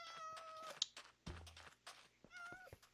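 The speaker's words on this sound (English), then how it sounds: "I would love to get one of these cats." Cat in the video game Pern Survival meowing, a few close, clear meows and a short caterwaul in quick succession, with soft thunks in between.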